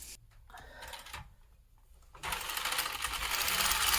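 Knitting machine carriage knitting a row: a few clacks and clicks give way to a steady, loud mechanical rasping sweep that builds toward the end.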